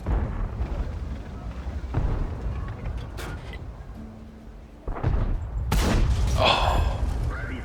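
Tank cannon shots from World of Tanks with an IS-2-II, heavy booming blasts at several points amid continuous low rumbling game noise, loud and close.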